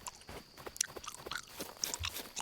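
A monster in a cheap horror video game chewing close by, with a run of crunchy, wet bites and mastication sounds in quick irregular succession.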